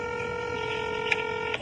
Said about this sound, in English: And called the phone numbers they left with the company.